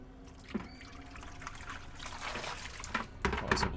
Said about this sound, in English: I'm gonna put more water where the window section is